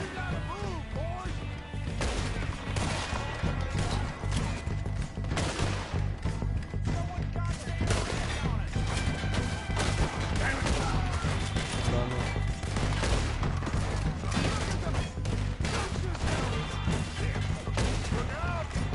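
Dense, loud gunfire from Red Dead Redemption 2 in a first-person fight against enemies near cabins: overlapping shots and crashing impacts fill the whole stretch with barely a pause.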